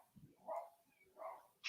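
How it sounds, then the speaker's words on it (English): Dog barking played back through an Alexa smart speaker, two faint, thin barks about half a second apart, small and distant-sounding with room noise between them. "Can you bark like a dog?"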